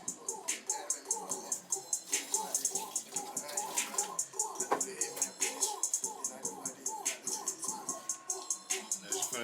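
Water runs and splashes while a custom jewelry mold is rinsed, a steady close rush with repeated pulsing swishes as the piece is moved under the stream.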